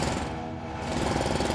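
A drill in the pre-alpha build of the game Foundry grinds in a loud, continuous rattling roar with rapid jackhammer-like pulses that stay steady throughout, with no talking.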